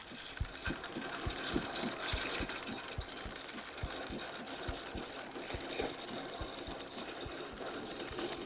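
A steady, rhythmic heartbeat thumps at close range while a trophy largemouth bass is fought in Bassmaster Fishing 2022 at Lake Chickamauga, its regular low pulses running throughout over a faint engine-like hum.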